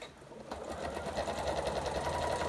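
Domestic sewing machine stitching a quilt binding with a 1/4 inch seam, a steady close-up mechanical whirr of rapid stitches running continuously after a brief quieter start.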